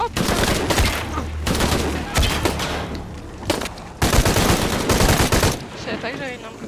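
Dense, loud bursts of gunfire from a weapon in Shadow of the Tomb Raider, rapid volleys repeating almost continuously with brief gaps, close and forceful.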